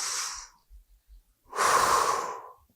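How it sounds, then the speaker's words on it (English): A conference keynote audience takes a deep breath together, a soft collective inhale followed after a pause by a longer, louder group exhale, with no speech. "Let's just take a deep breath."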